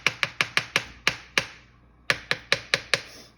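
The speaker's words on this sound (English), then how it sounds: "I'm going to go ahead and knock that on the cutting board." A utensil raps against a wooden cutting board while leftover chicken stock solids are knocked loose: a close, sharp series of about fourteen dry taps in two quick bursts, separated by a brief pause.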